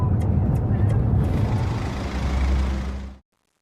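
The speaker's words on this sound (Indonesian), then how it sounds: "Ray terpaksa menepikan mobil untuk mengambil peta di bagasi belakang." A car slowing and pulling over to the roadside to stop, its engine a loud low rumble with a few sharp clicks, before the sound cuts off abruptly to silence.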